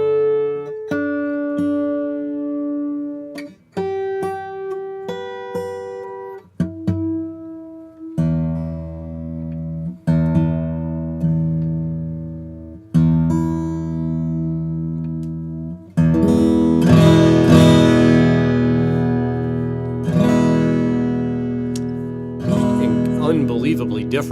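Lowden acoustic guitar played indoors, with separate plucked notes and chords ringing out and decaying, then building to fuller strummed passages near the end.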